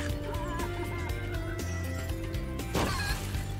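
A chicken in the video game Spyro Year of the Dragon squawks and clucks as it is attacked, brief fowl cries over game music and effects.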